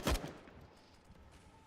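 AK-47 gunfire in Counter-Strike on the Train map during a Grand Final match: one sharp, loud burst at the start, then a quick fade into a low background murmur.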